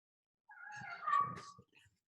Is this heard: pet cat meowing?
yes